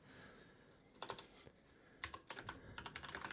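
Quick bursts of typing on a computer keyboard, close and fairly quiet, come in short clustered runs of key clicks separated by brief pauses, with no talking.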